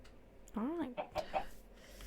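A Minecraft chicken gives a brief cluck followed by a couple of short squawks, up close and fairly clear against a quiet background.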